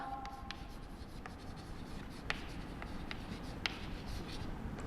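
Pen or chalk scratching steadily across a surface while drawing a trend line for a statistics lesson, close and continuous with short strokes and occasional sharper taps.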